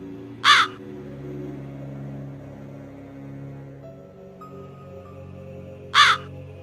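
A crow caws twice, once near the start and again near the end, each call short and loud, over a steady low hum with faint tonal background music.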